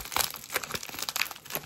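Golden paper envelope being opened up close, a quick run of crinkling and tearing rustles, soft and brief, with no talk.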